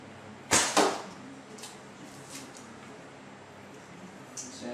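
In an indoor hallway archery range, a bow shot snaps out as two quick loud bursts, release and impact, then a long stretch of low ambience with a few soft distant knocks.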